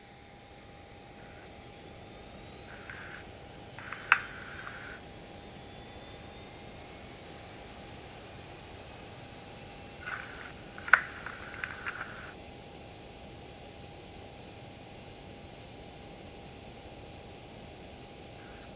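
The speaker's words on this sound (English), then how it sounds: "We go starting engine number 1." Learjet 35A jet engine starting in a Microsoft Flight Simulator cockpit, a faint steady whine with a constant hum under it, broken by two brief bursts of clicks and rattling switch noise.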